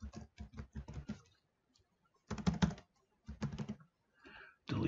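Fingers tapping on a computer keyboard in quick clustered bursts, close and clear, with brief pauses between runs of keystrokes and no talking.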